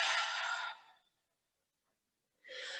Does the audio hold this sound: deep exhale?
yes